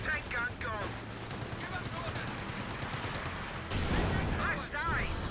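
A Vickers machine gun in Company of Heroes 2 rattles off rapid, evenly spaced rounds in sustained bursts, with a heavier blast midway, while a commentator talks over the battle.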